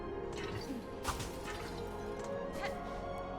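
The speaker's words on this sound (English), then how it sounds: "now we're gonna break the glass to our right" Glass shattering in Hollow Knight: Silksong, a sharp crash near the one-second mark followed by a second smaller break, set over a steady quiet game ambience with no talking.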